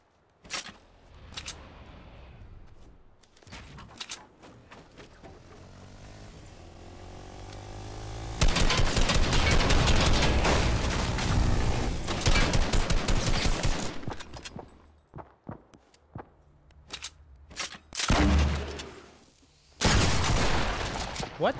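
Fortnite Battle Royale gameplay with a grenade explosion and sustained bursts of rapid automatic gunfire, loud and dense in long stretches, with a player talking at times between the shooting.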